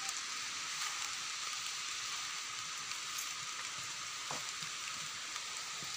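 Steady rain pours down outdoors in a rural village, a dense, even hiss that holds constant throughout with a few faint drips and taps standing out.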